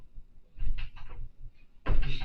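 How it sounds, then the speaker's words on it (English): A door being pushed open, with a couple of soft knocks and rattles followed by a louder thump of the door swinging, close by and without talk. "can I open the door from pushing it right here?"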